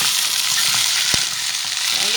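Peeled, washed beans go into a pan of frying carrots, bringing a steady bright sizzle and a single soft knock partway through.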